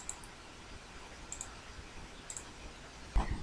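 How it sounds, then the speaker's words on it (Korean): A few faint, sparse computer mouse clicks over a quiet room hiss, ending with one slightly louder click, while working on a PowerPoint slide. "마우스 오른쪽 단추 눌러서 하이퍼링크 클릭하고요"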